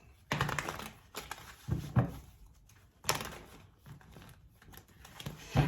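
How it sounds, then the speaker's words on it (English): Tarot cards being shuffled and pulled from a deck: quick papery riffles and soft taps come in short bursts separated by brief pauses, close and fairly quiet. "let's pull some more cards and see what else comes out here for you guys"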